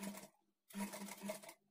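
A sewing machine stitching the shoulder seam of a lined blouse runs in two short whirring bursts separated by a brief pause, close and clear with no talking.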